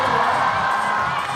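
A crowd cheers and shouts steadily for a climber at a lead climbing semi-final in Seoul, a dense, loud roar of voices sustained throughout without a break.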